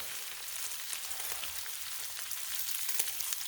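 Frozen hash browns frying on a Blackstone griddle, a soft, steady crackling sizzle with scattered pops, quiet and even throughout, with no voices.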